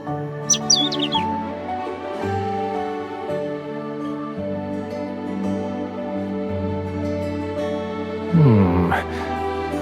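A small bird chirps in the Love and Deepspace video game, high bright tweets near the start and again near the end, set against sustained music without speech.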